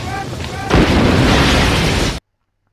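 A sudden heavy blast from an advanced high-tech weapon in the RoboCop film cuts in after a softer lead-in, then holds as a loud, dense roar for well over a second before stopping abruptly.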